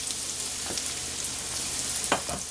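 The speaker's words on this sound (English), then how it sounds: "Let those mushrooms cook down." Mushrooms frying in a pan for a Thanksgiving leftovers dish, a steady close sizzle throughout with a few brief scraping stirs near the end, no voices.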